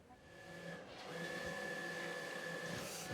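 An estate printer runs steadily while producing a fresh batch of health and safety notices, giving a continuous mechanical whir with a sustained hum that swells slightly after the first second.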